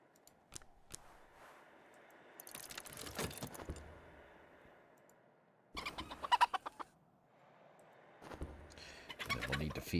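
Bird cooing and clucking sounds from the video game Book of Hours come in several bursts separated by quieter stretches, fairly close and moderately loud, with no talk.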